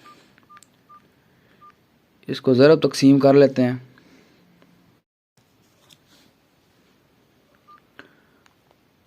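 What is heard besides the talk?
mobile phone keypad tones while calculating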